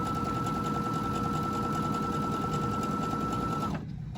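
A Baby Lock Jubilant sewing machine runs a long straight stitch on a fabric cuff, its steady whirring hum and rapid needle rhythm continuing closely until it stops abruptly just before the end.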